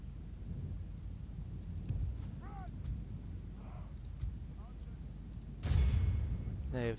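Distant artillery fire booms in the Third Age Total War battle game, with scattered low thuds and then one louder blast near the end, mixed with faint battle calls.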